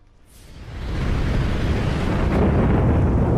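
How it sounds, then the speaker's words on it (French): Thunder crash in a modded Skyrim while crossing a portal: a loud rumbling roar builds within a second and holds steady, broad and heavy, with no voices over it. "ça fera toujours ce bruit de tonnerre là quand on traversera ce portail"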